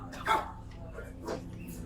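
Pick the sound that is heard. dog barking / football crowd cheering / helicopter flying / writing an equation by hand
dog barking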